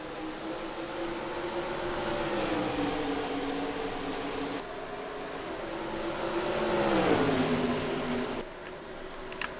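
A pack of stock cars accelerates at a green-flag restart at Dover in a racing video game, a steady loud engine drone whose pitch rises and falls, with no talking.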